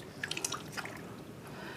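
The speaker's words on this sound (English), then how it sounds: "you can either cup the water and wet the baby's hair" Water is cupped by hand and poured over a baby's hair during a bath, a short run of soft close drips and trickles in a quiet room.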